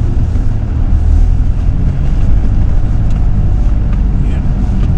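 A Ford Ranger pickup squeezes through a narrow lane under an old arch in France, its engine and tyre rumble loud and steady from inside the cab.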